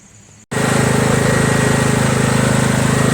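A Kohler Command CV460S engine on a Craftsman LT1000 lawn tractor kicks on after a brief quiet moment and settles into a loud, steady, close-up running drone with a fast regular pulsing beat.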